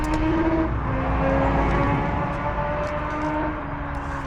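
Outdoors, a motorbike engine drones and revs with a low rumble that swells and eases, fairly loud and steady. It is joined by faint scattered ticks and clatter nearby.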